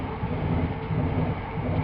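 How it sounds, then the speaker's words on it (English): A train passing beside a cricket ground, a steady low rumble and rolling clatter close by, with no voices. "The train sails by."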